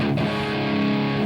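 Electric guitar with its low E string dropped a whole step to D rings out a single heavy, sustained low chord with light distortion, thick and loud for about a second before cutting off, no voices.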